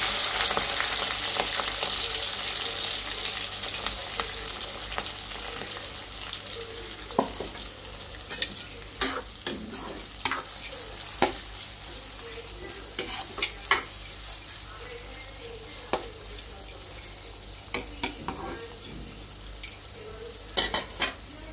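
Onions and green chilies fry in a pan over a gas flame with a continuous sizzle, and a utensil stirs and scrapes in sharp, irregular clicks and taps through the middle and end.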